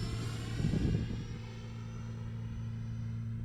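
An E-flite Viper RC jet flying with landing flaps down: a steady, droning ducted-fan whine with constant tonal hum, heard from a middle distance at fairly low level, no voices.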